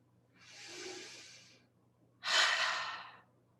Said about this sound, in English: Sit back, take a breath.